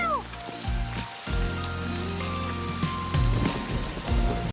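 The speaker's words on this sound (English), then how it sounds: "the rain came as soon as it was said" Steady rain patters on surfaces in a continuous wash under sustained musical tones, loud and close throughout with no voices.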